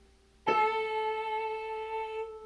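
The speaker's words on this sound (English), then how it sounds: "Now we play A for a dotted half" A single piano note A struck and held for about two seconds in a group class, its bright harmonics ringing steadily and fading slightly, with no talking.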